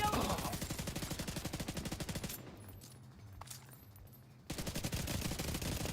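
Pistol fire in a video game rattles off in fast, dense bursts for about two seconds, drops to a quieter stretch with a few scattered sounds, then resumes with the same rapid loud shooting.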